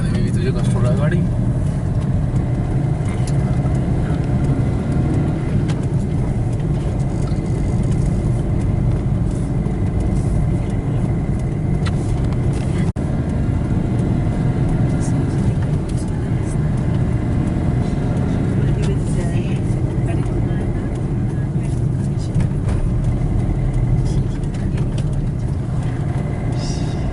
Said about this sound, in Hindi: नीचे जाने में भी तुझे कष्ट हो रहा है गाड़ी